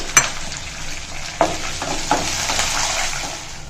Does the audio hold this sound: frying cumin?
yes